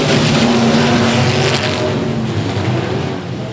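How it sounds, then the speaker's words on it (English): Race car engines at a short-track speedway roar loudly down the backstretch, a dense, sustained drone of several cars accelerating together, close and overpowering. "Engines coming up to full song down the backstretch."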